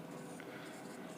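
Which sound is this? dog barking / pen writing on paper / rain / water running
pen writing on paper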